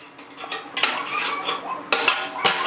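Metal conical hop spider being hung on the edge of a brewing kettle, clinking and scraping metal-on-metal with a few sharper knocks, close and moderately loud, no talking.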